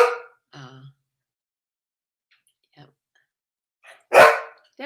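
A pet dog named Dexter gives short, piercing barks at home, one near the start and a louder burst near the end, separated by quiet gaps with faint voice sounds between them.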